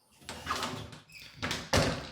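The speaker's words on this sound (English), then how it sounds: "So you have another bifold door." A bifold closet door in an apartment unit folds open or shut in a couple of close, clattering movements, ending in a sharper knock as the panels meet.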